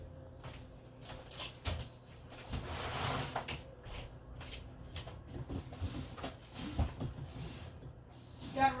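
A drawer being opened and rummaged while hunting for a heat mat, with soft wooden slides, knocks and clatters of items shifting inside, close and fairly quiet, in irregular bursts.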